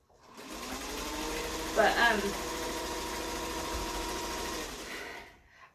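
A sewing machine stitches a quilt in a steady, continuous mechanical whir. The motor runs close and evenly for several seconds with a brief louder clatter partway through, and a voice speaks a single word.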